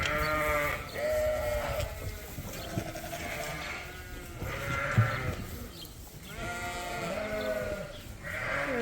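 Young Dorset lambs at a creep feeder on a sheep farm during lambing season bleat repeatedly and overlapping, several nearby voices calling loudly over barn background noise.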